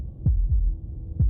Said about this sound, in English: That was the sound of a heartbeat, followed by another, and another